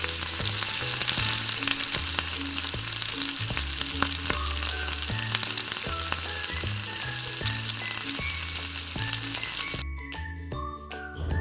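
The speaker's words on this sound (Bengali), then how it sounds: "তো তার মধ্যে আমি আস্তে আস্তে করে বড়াগুলো দিয়ে দিচ্ছি গরম" Ripe mango fritters frying in hot oil in a Bengali kitchen give a loud, dense, continuous sizzle with light clinks, while a rhythmic musical bed plays underneath.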